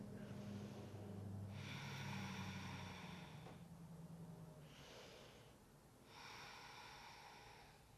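Slow, deep breaths during a yoga pose, each inhale and exhale a broad hiss that swells and fades in a steady rhythm, close and fairly quiet over a low background hum, with no talking.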